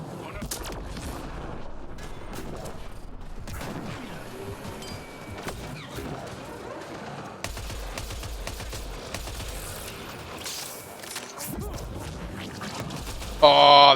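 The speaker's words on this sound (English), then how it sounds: "And they're already firing." Enemy gunfire in the sci-fi shooter game Mass Effect: Andromeda, a dense stream of shots and impacts layered with game sound effects and music, continuous and fairly loud throughout.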